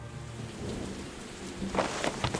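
Steady rain pours over a low rumble of thunder, and a louder roll of thunder swells near the end, with no voices over it.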